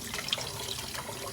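Cold tap water runs steadily and splashes over a model, a continuous close hiss of flowing water with no pauses.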